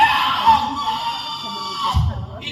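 A person vocally imitates a woman's startled, high-pitched scream: one sustained shrill cry, close and loud, trailing off into a brief low thump and a short squeal.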